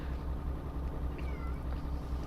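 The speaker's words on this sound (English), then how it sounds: "I've got a cat outside my room trying to get in" A pet cat meows a single faint, drawn-out call from outside a closed room door, nearly buried under a steady low hum that continues alone around it.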